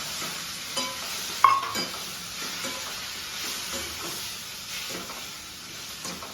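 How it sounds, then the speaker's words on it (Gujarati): Muthiya frying in a pan as yogurt is added, a steady soft sizzle and hiss with occasional stirring scrapes and a small clink near the start. "હવે નાખી દઈશું દહીં."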